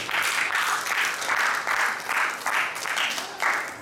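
A church congregation claps together in a steady, rhythmic beat, with roughly two claps per second sustained loudly and evenly throughout.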